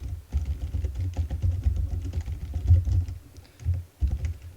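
Fingers type on a computer keyboard in quick, uneven bursts of close, clattering keystrokes, with a short pause near the end before typing resumes.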